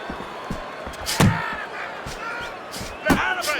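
Heavy punches thud in the boxing game Fight Night Champion, two sharp slamming impacts about two seconds apart amid crowd noise, with a commentator talking over them.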